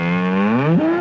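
A single long cow moo, close and loud, a steady low lowing tone that bends upward near its end.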